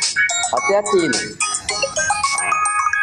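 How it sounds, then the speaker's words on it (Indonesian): A mobile phone ringtone plays a bright, repeating electronic melody loudly and nearly nonstop, with voices talking over it. "Ini telepon siapa?"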